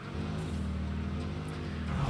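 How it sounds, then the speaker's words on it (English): Car driving in the game Satisfactory, a steady low engine drone with a rhythmic pulsing, moderately loud and continuous for two seconds with no talk. "Park the car here."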